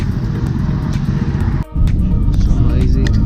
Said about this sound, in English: a lot of vehicles going by